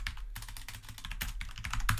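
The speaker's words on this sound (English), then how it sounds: "So you type makefile." Rapid, steady typing on a computer keyboard, a close run of crisp key clicks with small gaps between bursts and no voices.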